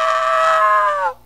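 A person gives one long, loud, sustained scream at close range, lasting about a second before it cuts off abruptly.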